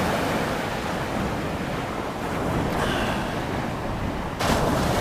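Sea waves roll onto the beach at night at Great Yarmouth's South Beach, a continuous close roar of surf with wind rumbling across the microphone and a louder surge near the end.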